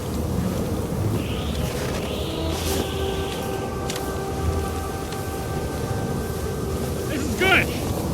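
A snowstorm in the television series The Young Indiana Jones Chronicles, with steady windy rain-like hiss and low rumbling under voices, plus a brief swell near the end.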